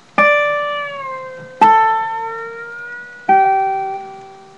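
Three plucked guitar notes on the 3rd string at the 12th fret, each struck sharply and ringing out with slide sustain, the pitch gliding slightly as they decay; no talking.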